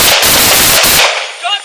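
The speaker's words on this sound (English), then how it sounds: "Shots fired!" Gunfire erupts in a close, loud burst during a police officer-involved shooting, with two sharp shots cutting through dense, clipped noise before it drops away into quieter hiss and a faint voice.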